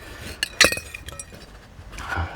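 Broken glass liquor flasks give a few sharp clinks, one bright clink standing out, followed by quieter scraping and a faint rattle, with no voices.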